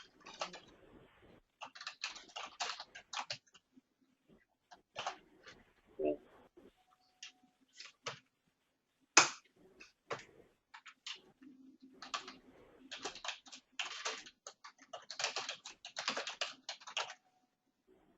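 A computer keyboard typed on during a Unix class, irregular bursts of close, crisp key clicks separated by pauses, with a voice talking faintly in between.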